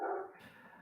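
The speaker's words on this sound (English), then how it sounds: "That's my beast of a dog." A single short bark from a dog, close and fairly faint, trailing off quickly.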